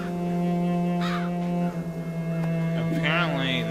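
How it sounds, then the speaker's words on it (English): Crows cawing in the video game Child of Light, several rough calls rising over a steady low musical drone, clearest toward the end. "Apparently, this town is full of crows."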